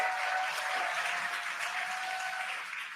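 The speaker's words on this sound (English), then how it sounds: "You can hear the crowd here." A distant crowd roars and cheers at a rocket launch in a continuous wash of noise, heard faintly with a steady tone running through it, as the rocket descends on drogue parachutes.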